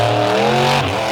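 A self-built engine in a monster truck at a racing championship roars loud and close, its pitch holding steady and then dropping as it revs down near the end.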